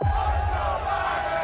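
A crowd chants "Let's go Brandon" in a loud, continuous mass of voices that rises and falls steadily and fills the whole moment.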